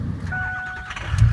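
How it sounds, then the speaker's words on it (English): A 2006 Ford F250 4x4 diesel truck cranking over and firing up, a brief loud starter whine rising into a deep rumbling catch close by. "I'm going to fire this truck up."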